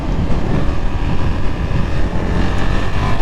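A 2022 KTM 390 Duke motorcycle accelerates, its engine roar heavily buffeted by loud wind noise on the rider's microphone, continuous and close throughout.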